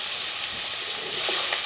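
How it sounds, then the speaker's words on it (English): Bean sprouts and onions frying in oil in a pan for shrimp fried rice, a steady, close, even sizzle with a soft watery hiss throughout and no talking. "the bean sprouts, and the onions. I'm gonna let that cook for a few minutes"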